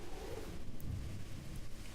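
A dark, stormy night in the video game Noel The Mortal Fate brings a steady roar of rain and wind with a low thunder rumble underneath, continuous and fairly loud without speech.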